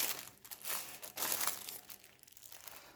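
Pages of a Moda Vilona paper catalogue being leafed through, soft crinkling and rustling swishes in quick irregular bursts, quiet and close, with no voices.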